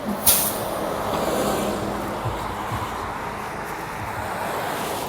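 City rapid transit bus passing on a Madison street on Christmas Eve, a sharp air-brake hiss at the start followed by a steady, broad rumble and wash of traffic noise that stays loud throughout.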